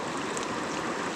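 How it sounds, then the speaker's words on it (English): Running water flowing steadily, a dense, close, continuous rush and splash with no pauses and no voices. "You can drink, of course. It's running water."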